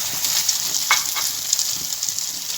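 Egg-soaked bread slices for French toast fry on a hot tawa griddle over low to medium flame, making a steady close hiss with a few faint scrapes and ticks on top, and no voices.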